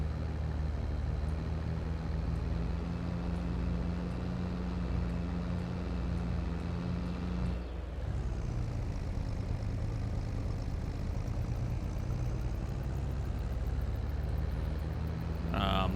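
A tractor engine runs continuously in Farming Simulator 22, a loud, even low drone that dips briefly halfway through and then carries on at the same steady level.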